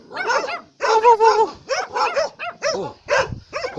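A dog barks and yips rapidly and close by, a steady run of sharp, loud barks with a few whimpering notes mixed in.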